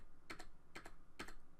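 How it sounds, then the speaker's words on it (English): Three keypresses on a computer keyboard's left arrow key, each a quick double click, evenly spaced, close and fairly faint over a quiet background hiss. "let's try clicking the left arrow key"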